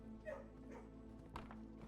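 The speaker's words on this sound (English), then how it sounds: "Good puppy. Any other dogs?" A dog barks a few times inside the video game Blue Prince, the yaps soft and low in the mix over a steady droning game soundtrack, with one brief sharper bark standing out midway.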